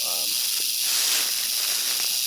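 A big rattlesnake rattles close by, a steady, loud, unbroken buzzing hiss that carries through the whole moment, with a faint voice briefly underneath.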